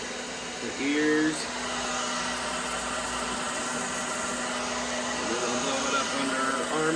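A hair dryer blowing warm air on a child, a steady whooshing drone with a faint motor whine that runs throughout, with brief voice moments near the start and later.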